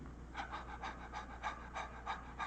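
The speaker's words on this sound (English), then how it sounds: "Now, there's ordinary breath" A man demonstrates ordinary, normal breathing during a lecture, giving a steady series of soft, rhythmic breaths, each a quick airy puff, about eight in a row at a faint level.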